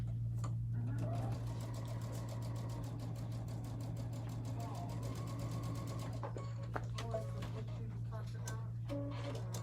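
A sewing machine runs steadily, stitching 3.5-inch quilt squares edge to edge, its fast rhythmic whir continuous and close, with brief speech-like sounds near the end.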